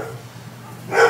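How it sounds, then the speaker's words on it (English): A dog gives a single short bark near the end of a brief indoor moment, following a quiet stretch with faint background noise. "Dogs are all barking."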